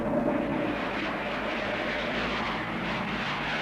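A fixed-wing airplane engine drones steadily on an airfield, a constant even roar at moderate level with no talk.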